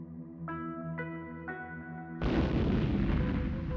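A bomb explosion sound effect bursts in as a single loud, broadband blast that rumbles on after a few short ringing ticks and a steady droning tone.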